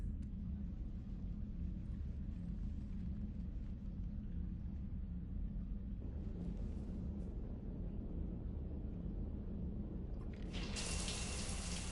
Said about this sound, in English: I figured you'd be more interested in a shower.